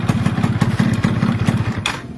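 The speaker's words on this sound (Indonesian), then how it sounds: "dia bunyi lansam lagi normal kayak tadi ya" A Yamaha F1ZR two-stroke motorcycle idling normally after the throttle drops, with a loud, close, rapid putter of steady, slightly uneven engine pulses throughout.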